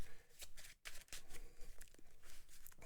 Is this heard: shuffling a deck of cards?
yes